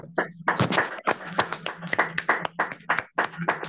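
A church congregation claps in a rapid, uneven burst of many hands, loud and close, with shouts and voices mixed through the applause.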